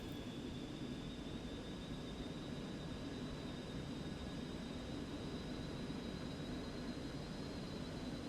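Steady jet engine hum from a Cessna Citation Mustang in X-Plane 11, a constant even drone with a faint high whine and no rise in level.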